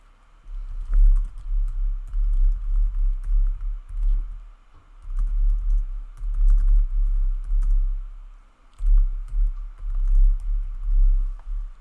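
Product features and keywords being typed on a computer keyboard, a steady run of close, quick key clicks in bursts with short pauses, no voices.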